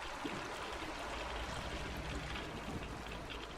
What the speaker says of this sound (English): there goes the water